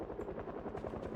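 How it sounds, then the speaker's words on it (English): Helicopter in the game Project Zomboid, a steady pulsing rotor chop with dense low thumping, moderately faint and continuous, with no talk. "as long as we stay inside, the helicopter will not really mess with us too much"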